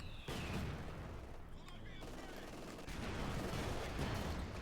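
Bazooka fire in Company of Heroes 2 against a Panzer IV tank, with dense gunfire and blasts rumbling continuously amid battlefield noise.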